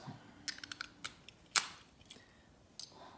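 A key worked in a 150-year-old lock, giving a quick cluster of small, sharp metallic clicks and ticks, close and fairly quiet, with no talking.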